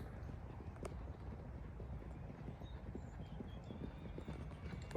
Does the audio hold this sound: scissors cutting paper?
no